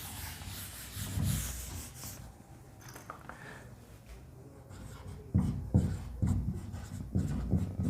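Writing on a board during a Hindi grammar lesson: rubbing, scraping strokes that come in uneven bursts, grow louder and more tapping toward the end, with no talk over them.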